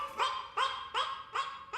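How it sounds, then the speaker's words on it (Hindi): A muddy, itchy street dog gives five evenly spaced barks with a whiny, yelping edge, moderately close and fairly quiet, with no talk over them. "अरे लग रहा है गली का कुत्ता है जो बहुत खुजली वाला है"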